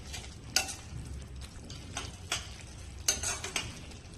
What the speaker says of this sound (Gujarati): તો આપણે સતત મિક્સ કરતા રહીશું